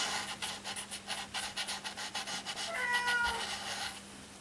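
A big cat gives a short meow near the end after a stretch of rhythmic rubbing or breathing sounds, close and moderately loud.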